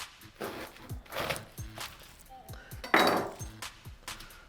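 A knife chops Savoy cabbage finely on a cutting board, a string of close, uneven wooden thunks and crisp leafy crunches, roughly a dozen strokes with a louder crunch near the end.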